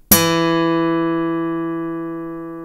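A single plucked guitar G string rings out clearly and decays slowly over a couple of seconds, alone.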